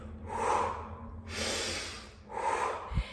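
Three audible breaths in and out during a bodyweight strengthening workout with no music, each a broad airy rush of about a second, evenly spaced and close, with a faint low thump near the end and no talking.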